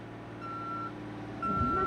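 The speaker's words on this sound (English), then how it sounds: "Can this truck leave?" A truck's reversing alarm sounds two clear, loud electronic beeps with a pause between them, over low engine rumble and faint background noise.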